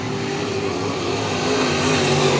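Modified dirt track race car, number 12, rounding the I-37 Speedway oval, its engine a loud, close, continuous roar with a rising pitch as it powers by, alone without voices.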